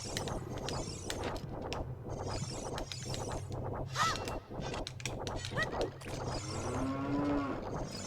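Cow in Ocarina of Time mooing after being hit, a short lowing call rising out of a busy stream of rapid rhythmic tapping and game noise, with a faint voice underneath.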